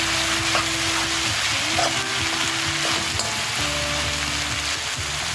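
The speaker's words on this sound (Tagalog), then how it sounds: "Mix natin gamay ha. Para ma-distribute ang butter." Pork sisig being stirred with melted butter in a hot pan, a loud steady sizzle and frying crackle throughout, with scraping from the stirring and no talking.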